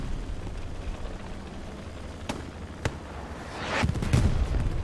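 A rocket explodes in the Hell Let Loose video game, a rumbling blast that swells near the end, preceded by a couple of sharp distant cracks amid ongoing battle noise.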